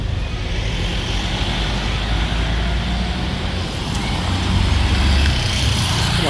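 Steady loud roar of street traffic in Dumaguete City, a pickup truck among the vehicles passing close by, engine rumble swelling slightly near the end with no speech.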